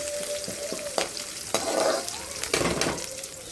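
Mustard seeds splutter in hot oil for Kerala-style avial, a loud, close crackle of scattered pops over a steady frying hiss, with a few sharper bursts.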